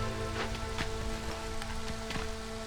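Steady light rain patters on surfaces during the drizzle season in the video game Against the Storm, a constant close hiss of drops with faint droplet ticks and a low tonal game hum beneath.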